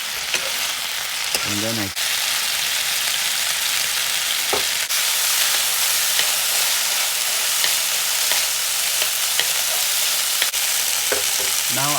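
Mixed vegetables frying in a pan, a loud continuous sizzle with occasional stirring scrapes, heard up close while a voice speaks briefly.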